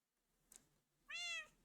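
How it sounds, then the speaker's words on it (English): A cat gives one clear, fairly loud meow near the end, with a brief faint sound shortly before it, in an otherwise quiet room. "Just see, he's meowing."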